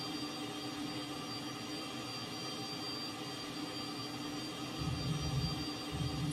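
Steady broadband roar of a jet plane's engines during a crosswind landing approach at about 100 knots, a continuous near rush with a low rumble swelling near the end, no talk.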